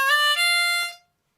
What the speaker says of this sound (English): I'm going to be using a harmonica in the key of C